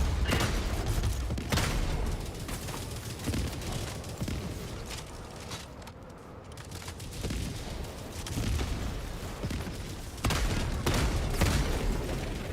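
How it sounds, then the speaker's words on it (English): Dominator weapon fire in the video game Helldivers 2, a dense barrage of repeated booming gunshots and blasts over a continuous rumbling battle din, loud and sustained throughout with no talking. "Someone's shooting it with like a Dominator or something."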